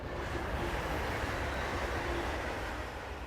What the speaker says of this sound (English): let the train go by